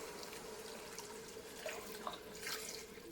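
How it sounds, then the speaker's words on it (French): Half a litre of water pours into a Cookeo pressure cooker pot, a faint, steady splashing trickle with a few small gurgles, close and without talk. "on rajoute donc un demi-litre d'eau"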